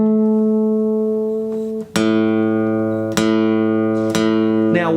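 Guitar A string plucked for tuning, struck three times and left to ring with a bright harmonic-rich tone that decays between plucks, with a brief quieter note before and a final pluck at the end.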